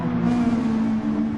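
A race car engine in a sim racing game at the Nürburgring holds a steady, droning tone throughout a brief stretch, consistent with a car spinning out, loud and close with no pauses.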